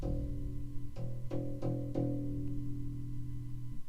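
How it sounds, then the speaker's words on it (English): A low E string on a bass guitar rings, with a few picked attacks in quick succession, each sustaining and decaying slowly; no talking. "so the low string, the low E string, sounds like this."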